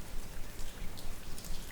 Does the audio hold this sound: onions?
no